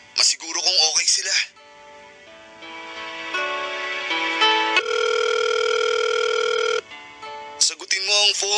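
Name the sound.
phone ringing on an outgoing call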